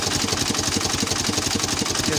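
A Ghazi tractor in second gear pulls a rotavator, its engine churning with a steady, rapid low throb under a broad mechanical rattle.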